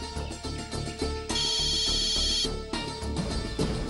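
Phone ringing after a number is dialed, a steady electronic ring with a bright warbling tone that sounds loud for over a second, set against background music and scene sound in a Tamil TV serial.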